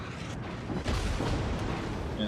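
Naval guns in a warship video game fire on the destroyer Benson, a heavy boom that swells into a deep sustained rumble, with someone talking over it.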